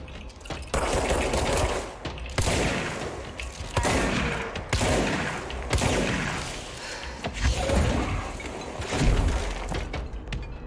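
Turret gunfire in the video game Control: continuous, loud rapid bursts of shots with shattering impacts that keep pounding without a break for the whole stretch, and no talking.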